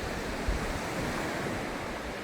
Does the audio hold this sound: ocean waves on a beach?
yes